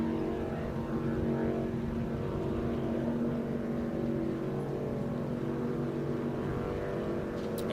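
Offshore powerboats with V-style hulls, 20 to 22 feet long and driven by 300-horsepower outboard engines, race on Lake of the Ozarks, their steady layered engine drone holding at a moderate distance throughout with no voices.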